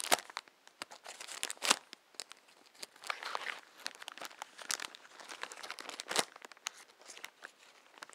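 A box or package being sliced open with a liner-lock knife, giving close, scratchy bursts of crinkling and tearing plastic or cardboard in irregular spurts, with no talk.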